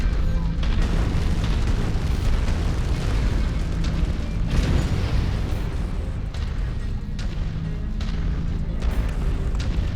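Radar installation being blown apart by explosions in MechWarrior 5, a dense, continuous low rumble of booms and blasts with no pauses, loud throughout.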